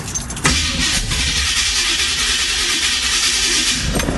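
A 1971 Camaro engine cranks and fires, catching after a brief start and settling into a loud, steady rumbling run close by.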